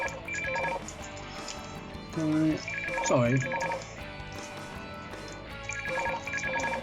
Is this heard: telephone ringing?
yes